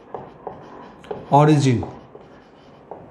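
Marker or chalk scraping across a board during a maths lecture on conic sections, a few short faint strokes with a voice speaking briefly over them.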